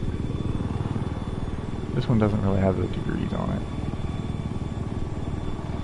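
Steady whirring rotor and engine drone of a scout helicopter flying and diving in Battlefield 4, loud and continuous beneath someone talking over it.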